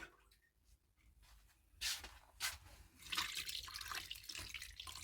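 Water poured in to top up a container, a rushing splash that builds midway and keeps going steadily, close and moderately loud, with no talk.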